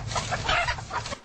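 A chicken clucks several times in quick, uneven bursts, close and fairly loud, with no other sounds around it.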